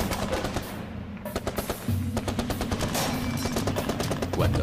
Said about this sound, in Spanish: Cuando suenan los primeros disparos, el Che se encuentra cara a cara con el enemigo